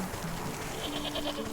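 Mountain goats in the Wytchwood game bleat faintly over a steady ambient bed, a few short wavering calls in quick succession within a brief stretch.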